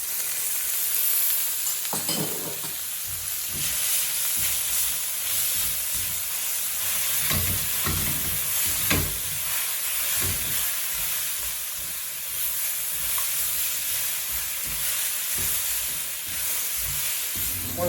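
A handful of cashew nuts with green chilies sizzles and fries steadily in a hot pan, a continuous close crackling hiss with occasional stirring scrapes and no talk.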